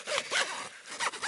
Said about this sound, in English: zip's caught already